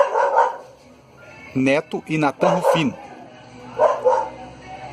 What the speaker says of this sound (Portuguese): tem um cachorro que está querendo atrapalhar agora